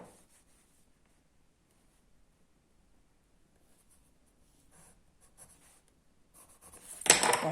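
Pencil drawing a perpendicular line on paper for a geometry exercise: faint, sparse scratching that builds into a louder, close rubbing stroke near the end.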